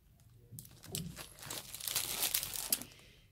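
Crinkly plastic packaging around washi tape being handled, a close, irregular rustle and crackle that builds for a few seconds and then fades, with no talking.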